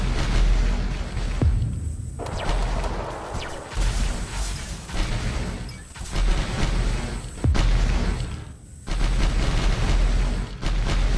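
Laser fire in the space shooter Space Menace 2, dense and loud volleys of blasts with booming impacts, nearly continuous, with a few brief drops between bursts.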